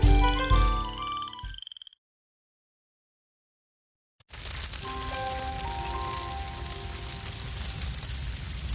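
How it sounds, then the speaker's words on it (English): Frogs croak in a commercial, heard as a busy chorus of repeated nearby croaks. Tonal music plays first, then a couple of seconds of silence, then the steady croaking returns with a faint musical backing. "And then our frogs jumped for joy."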